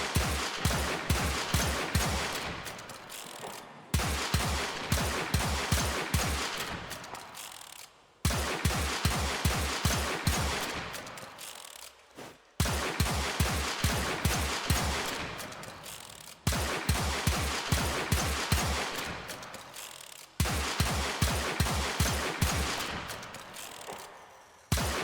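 Warframe pistol fire in the Corpus Sestra style: rapid bursts of sharp gunshots repeated in six even volleys, each ending in a brief reload gap, loud and crisp with no talk.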